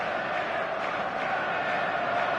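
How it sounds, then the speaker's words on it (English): Stadium crowd in the eFootball 26 video game, a steady dense roar of many voices filling a packed ground, continuous and fairly loud with no breaks. "The stadium is full of noise and energy."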